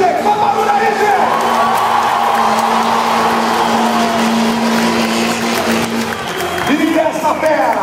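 A crowd cheers and roars at a stunt show at Beto Carrero as a Volkswagen Constellation truck performs, with a loud sustained engine drone beneath the noise and a swell of cheering near the end.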